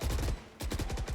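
A rapid automatic burst of video game gunfire shooting through a wall, loud and punchy, broken by a brief gap before a second burst.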